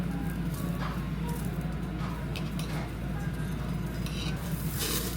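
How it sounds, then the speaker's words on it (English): Japanese wagyu beef sizzles steadily on a Korean barbecue grill, a dense continuous crackle with occasional brighter spits, while people chat nearby over the cooking. "The anticipation of it cooking on the grill."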